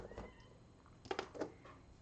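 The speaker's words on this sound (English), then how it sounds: "She's a very needy cat." A needy house cat named Luna meows a few times, close by and moderately loud, the calls bunched together near the end over a quiet background.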